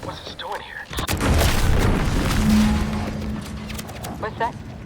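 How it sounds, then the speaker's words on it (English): Explosion in the video game The Outer Worlds 2, a loud rumbling boom that swells and lingers for several seconds, followed by fainter noise and a voice. "What's that? An explosion?"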